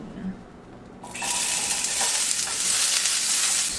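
Onion hitting hot oil in a pan, a quiet start that bursts into a loud, close, steady sizzle lasting to the end.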